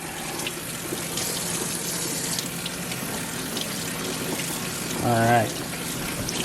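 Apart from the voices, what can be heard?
tap water running over pork butt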